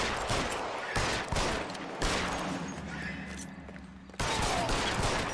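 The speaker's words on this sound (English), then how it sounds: "All this shooting." Sustained video-game gunfire in a street shootout, with bursts of rapid shots and sharp cracks coming in waves, dense and loud throughout with brief pauses between volleys.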